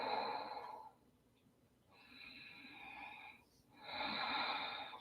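Loud, audible ujjayi-style breathing during an Ashtanga yoga forward-bend pose: three long, raspy breaths with short quiet gaps between them, close to the mic and with no talk.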